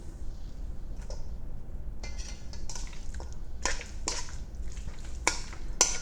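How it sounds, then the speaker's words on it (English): Keto bagel dough ingredients mixed in a bowl, with a scattering of light clinks and scrapes of a utensil against the bowl, several sharper taps near the end, fairly close and quiet. "mixing them up as I go along so you don't get a big clump of them in one spot"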